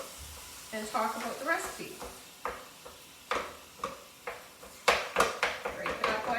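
Ground meat sizzles in a hot pan while a spatula repeatedly scrapes and chops it apart, giving a series of sharp, close scraping hits over steady frying; a person talks over it.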